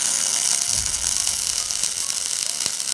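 Arc welding burns a rod into a gap between metal pieces, giving a steady, loud, dense crackle and hiss that stays close with no pauses.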